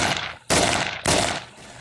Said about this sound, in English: Okay, covering fire.